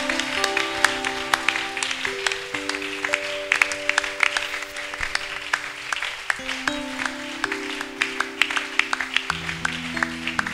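A congregation claps continuously during worship, bright rhythmic clapping mixed with sustained organ or keyboard chords underneath.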